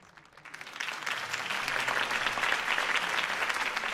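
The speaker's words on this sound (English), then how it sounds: "could have heard that applause" Crowd applause after a campaign speech in the Batman Telltale video game, swelling quickly from quiet into sustained dense clapping and staying loud to the end.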